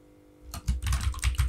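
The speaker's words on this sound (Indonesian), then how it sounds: "di sini kita ketik" Quick bursts of keystrokes on a computer keyboard while entering values in an Excel spreadsheet, a short close flurry of clicking taps following a moment of near silence.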